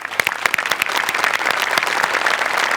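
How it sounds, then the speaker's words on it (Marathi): Enthusiastic clapping from a crowd after a stage ramp-walk performance, dense and sustained, with sharp individual claps standing out at first before blending into a steady wash. "एकदा जोरदार टाळ्या"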